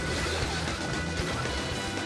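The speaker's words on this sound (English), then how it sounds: "He smashes straight into the hotel lobby" A drunk driver's car smashing through a hotel's revolving doors into the lobby in China, a sustained loud crashing, grinding din with heavy low rumble throughout, no voices.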